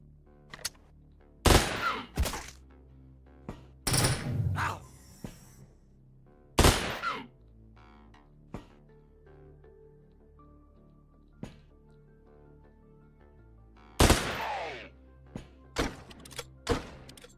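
Sharp gunshots and thudding impacts from the game Quasimorph, played on Unfair difficulty, come in scattered bursts with quiet gaps between them, some single cracks and some short clustered volleys.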